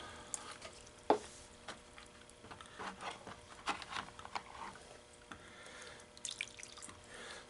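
Gold paydirt concentrates swirled with water in a prospecting pan, giving soft sloshing and drips with small gritty clicks of sand and gravel, close and fairly quiet, with no talking.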